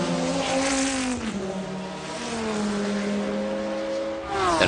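Yannick Dalmas's McLaren race car at the 1996 Le Mans 24 Hours, a loud, sustained engine note heard close by that holds steady, dips and rises again as the car powers along the circuit.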